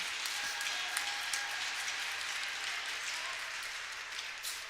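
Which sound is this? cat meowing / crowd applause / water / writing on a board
crowd applause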